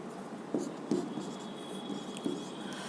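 Chalk or marker scratches and taps against a classroom board in a few short strokes, faint and close, under a quiet room hum.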